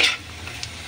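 Bitter gourd and egg are stirred as they fry in a pan. A short, bright scrape of the utensil comes at the start, then quieter sizzling and a soft clink, with no talking.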